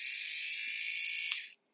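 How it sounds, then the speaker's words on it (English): An electric sweater shaver runs steadily with a loud, high-pitched whirring buzz, close up, then cuts off abruptly near the end. "It's a sweater shaver."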